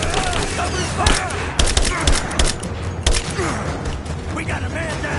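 Loud, close gunfire rattles in a firefight in the game Rise of the Tomb Raider, with sharp shots and thuds layered over a dense, chaotic backdrop and some shouting.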